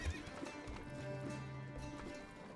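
Horses in the medieval city-building game Manor Lords clop along with steady hoofbeats and give a faint whinny as they depart, all fairly quiet.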